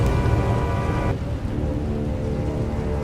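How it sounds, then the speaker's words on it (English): Rain pours steadily during a storm in Star Wars: The Old Republic, with rumbling thunder beneath. A sustained tone cuts off partway through, leaving the dense hiss of rain alone. "a fierce storm coming our way"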